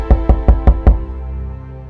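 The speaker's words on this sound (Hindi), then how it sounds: "उसका दरवाजा कोई जोर जोर से खटखटा रहा था" Five loud, evenly spaced knocks pound on a door in quick succession, heavy and close, followed by a brief fading resonance.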